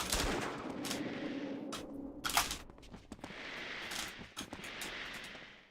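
Enemy gunfire in the video game The Infernal Machine, a few sharp shots standing out from a dense mix of game noise, with one louder burst midway and scattered cracks afterward.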